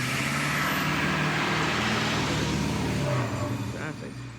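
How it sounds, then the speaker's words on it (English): Road traffic rolling past outdoors, a steady broad roar of cars and trucks close by that swells and then eases off near the end. "Traffic."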